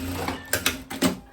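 A sewing machine stitching a viscose dress strap, heard as a few short mechanical whirring bursts close by, with brief pauses between them.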